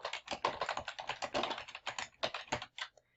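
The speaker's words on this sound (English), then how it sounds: "Then I'll type the name and address of the person I'm sending the letter to." Rapid, steady typing on a computer keyboard while writing a letter in a document, with close, crisp key clicks in a dense run that stops abruptly near the end.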